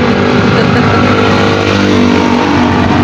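A tricycle's motor engine revs loudly and steadily up close, a continuous buzzing drone with no pauses for the whole short stretch.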